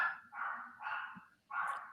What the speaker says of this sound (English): There's some dogs in the background for me